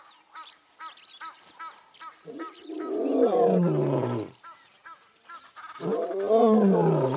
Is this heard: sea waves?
no